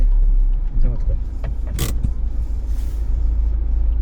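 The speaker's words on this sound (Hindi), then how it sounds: "गाड़ी चल रही है" A car driving along a road through Nagarhole National Park, with a steady low rumble and road noise heard from inside the cabin, a brief rattle partway through, and people talking over it.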